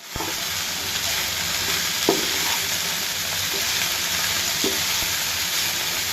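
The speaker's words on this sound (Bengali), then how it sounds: "পেঁয়াজ রসুনগুলো বাইজা নিচ্ছে" Chopped onion and garlic fry in a pan with a steady, loud sizzling hiss, broken by a few soft clicks of stirring.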